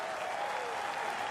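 A cricket crowd in Christchurch applauds Brendon McCullum's record century, a dense, steady wash of clapping and cheering from a large stadium audience, loud throughout.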